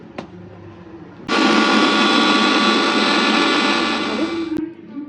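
A mixer grinder grinding turmeric and spices into powder starts abruptly and runs as a loud, steady whirring roar for about three seconds, then stops, with quieter kitchen sounds before and after.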